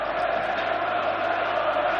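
A packed stadium crowd of over 40,000 Nottingham Forest and West Ham United supporters at Villa Park before a 1991 FA Cup semi-final makes a steady, distant roar of massed voices.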